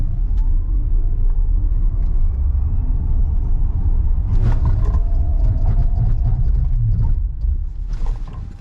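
A NIO ES6 Gen2 electric SUV, rated at 490 horsepower and running on low rolling resistance tires, accelerates hard, heard as a loud, continuous low road-and-tire rumble with brief clunks partway through.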